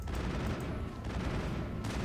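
Pistol gunfire in the video game Mass Effect, dense and continuous through the short stretch, with shots blurring into a steady wash of combat noise.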